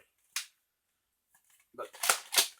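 A modded Nerf blaster fires with one sharp bang, and after a pause comes a burst of clicks and clacks as it is primed, then two more loud snapping shots close by.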